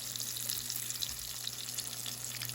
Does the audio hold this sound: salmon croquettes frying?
yes